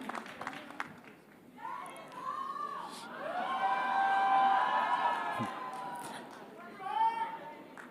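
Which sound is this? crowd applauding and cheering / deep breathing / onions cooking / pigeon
crowd applauding and cheering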